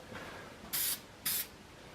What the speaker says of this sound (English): And so spray paint usually takes a couple coats.